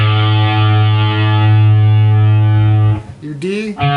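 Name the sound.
guitar A string tuned down to A430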